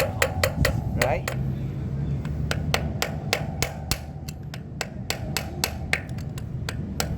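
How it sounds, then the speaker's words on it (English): A flat screwdriver is struck repeatedly to turn a Brompton bicycle hub anti-clockwise, giving sharp metallic whacks in an uneven series close up, with someone speaking briefly at the start. "the traditional method is to basically use a flat screwdriver. Alright, anti-clockwise, you can whack it."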